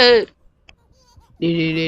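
A sheep in the horror video game Baby in Yellow bleats twice, loud and close, with a short quiet gap between the two calls.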